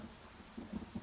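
A thunderstorm in the video game Pathfinder: Wrath of the Righteous: faint, steady rain hiss with low rumbling thunder swells building near the end.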